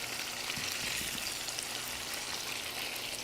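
Pomfret fish pan-frying in a Bangladeshi kitchen with spicy onions and tomatoes on top, giving a steady, dense sizzle throughout at moderate loudness, with no talking.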